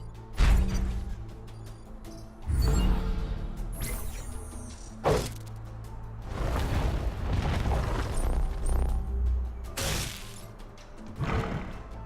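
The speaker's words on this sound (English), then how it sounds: "Rocket launches, but it's after him" Into the Breach strategy game combat with a rocket launch: several loud, sharp booms and crashing bursts at intervals over a low rumbling bed, with no speech.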